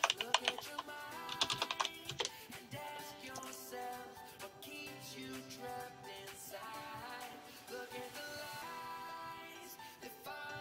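Typing on a computer keyboard to chat during an online card game stream, with quick clicking keystrokes at the start under music and a voice talking.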